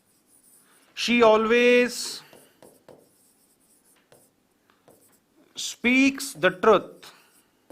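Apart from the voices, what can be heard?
writing an example on the board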